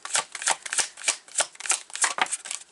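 Tarot cards riffle and slap in quick, uneven bursts, close and crisp, with no talking over them.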